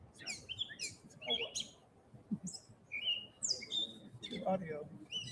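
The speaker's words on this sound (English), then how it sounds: "But what kind of bird?" A bird chirping in short, bright bursts of high tweets, several separate calls scattered irregularly over a few seconds, fairly near, with faint low background murmur beneath.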